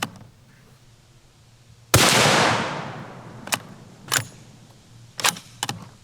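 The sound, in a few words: MK22 sniper rifle firing rounds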